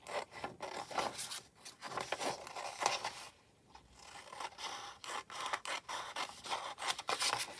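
Scissors snipping through paper pictures being cut out for a camping-themed junk journal card, a steady run of close, crisp rasping cuts with a brief pause midway.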